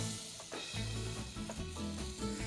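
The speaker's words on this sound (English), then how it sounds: "Just let those both melt really well. You can hear that." Butter and olive oil melting together in a hot pan, giving a steady, close sizzle with crackling that stays continuous and fairly loud throughout, with no talking.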